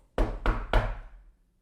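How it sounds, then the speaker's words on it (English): Three sharp knocks land on a door in an even rhythm, close and loud, each with a short ringing decay, then silence. "You hear a knock on your door."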